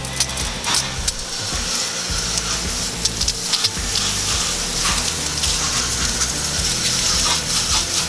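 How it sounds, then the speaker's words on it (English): Water sprays over a greasy coil in a continuous, loud gushing rush, like a hose stream splashing and spattering across metal fins for several seconds. "we're just going to pre-rinse the coil before we add the solution"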